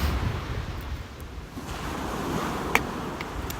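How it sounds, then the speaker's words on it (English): Ocean waves wash steadily onto a beach at sunrise, a constant broad surf roar with light wind on the microphone and one brief sharp click near the end, no talking. "Beautiful waves."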